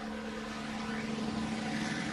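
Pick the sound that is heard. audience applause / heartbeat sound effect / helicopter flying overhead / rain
helicopter flying overhead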